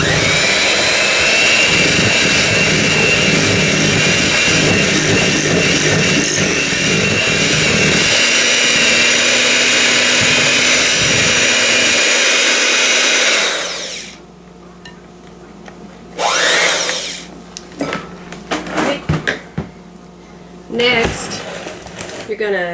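An electric mixer beats cake batter for a chunky apple cake, with vanilla just added: a loud, steady buzzing whir running continuously for about fourteen seconds, then stopping, leaving quiet room sounds and a few short knocks and clatters.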